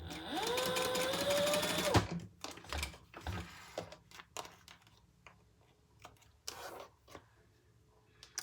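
Sewing machine stitches steadily for about two seconds while basting the sides of a crossbody bag, then stops, leaving scattered clicks and handling of fabric.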